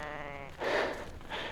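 Ewes bleating in a sheep pen during mob breeding, two drawn-out calls with a shorter one following, fairly close and clear with no talk.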